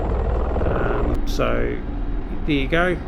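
A Mi-24 Hind attack helicopter in DCS World sits on the ground after landing, its rotor and engine making a continuous loud droning roar while someone talks briefly over it.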